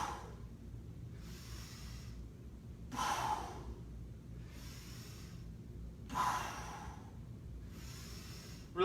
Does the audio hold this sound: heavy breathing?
yes